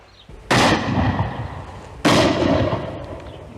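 Two sharp shotgun blasts fired at a pheasant, about a second and a half apart, each a loud close crack that rolls off into a long outdoor decay with no talking.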